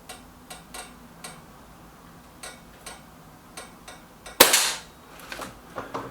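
Several quiet ticks sound at an even, clock-like pace before one loud, sharp crack from a Reximex Regime air rifle firing at a target. A brief ringing decay follows, then a few fainter ticks.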